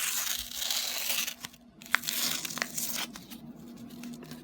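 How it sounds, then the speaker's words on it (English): Excess material being ripped off by hand: a near, crackly tear with crinkling bursts, one sharp snap midway, then softer rustling, with no talking. "the excess, you can actually just rip it right off"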